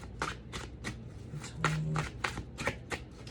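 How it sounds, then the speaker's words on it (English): A deck of tarot cards being shuffled by hand, giving a steady run of crisp riffling bursts, close and fairly loud, with a brief word spoken partway through. "we want to give these cards a really good shuffle"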